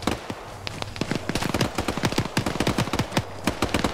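Dense in-game gunfire erupts in rapid, irregular bursts of sharp cracks, loud and close, as incoming shots pour in continuously with overlapping reports and a faint background hum.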